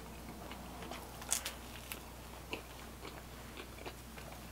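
Soft crunchy bites and chewing on pizza with caramelized cheese on top, a few quiet crisp crackles spaced over a faint room hiss.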